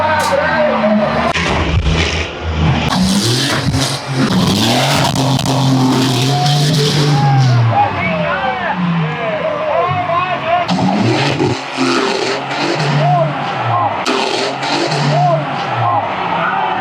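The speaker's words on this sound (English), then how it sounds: "He throttles up with a hard left-hand turn down on the pit wall." A stunt car at a show throttles up through a hard left-hand turn by the pit wall at about 60 miles an hour, its engine revving and roaring under loud announcer commentary and crowd noise.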